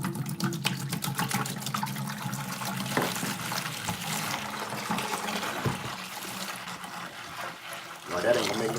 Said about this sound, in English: So let's pour that first 3 quarts in.